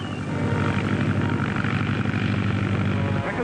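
A propeller airplane drones steadily overhead, a loud, continuous engine roar with a low throbbing hum that holds for a few seconds before cutting off.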